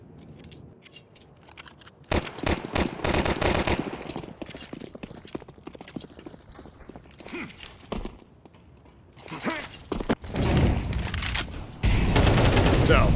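Rapid bursts of AK rifle fire in a Counter-Strike competitive match, sharp repeated cracks in clusters with gaps of quieter game ambience between volleys, loud and close.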